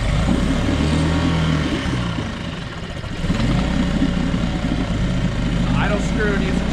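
A choked outboard motor running close by with a steady mid-pitched engine hum that dips briefly and picks back up, while a person talks over it.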